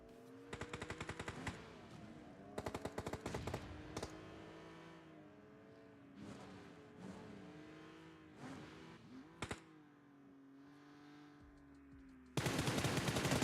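Automatic gunfire in a battle royale video game, with several rapid bursts of shots over a continuous droning vehicle engine, followed by a loud sustained noise at the end.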